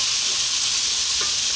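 Chili powder and a blend of four spices fry in hot oil as they are stirred around a pan, a loud, dense sizzle that holds steady throughout with no talking.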